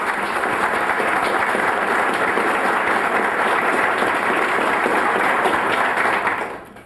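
Steady audience applause welcoming First Lady Rhonda Keenum at a presidential papers dedication ceremony, a dense, even wash of clapping from a large crowd that holds for several seconds before tapering off.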